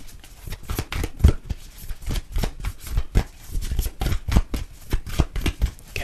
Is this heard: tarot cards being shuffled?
yes